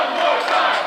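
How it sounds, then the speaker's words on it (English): Wrestling crowd at a live indoor show, a dense roar of many voices chanting and yelling together, loud and close, lasting under a second. "The crowd's chanting."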